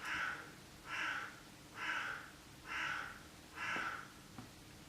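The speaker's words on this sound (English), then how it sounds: "It was a huge crow making sounds." A large crow caws five times in a steady, evenly spaced series, each call harsh and moderately loud against a quiet background, with a soft snort-like sound near the end.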